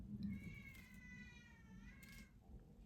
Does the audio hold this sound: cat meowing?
yes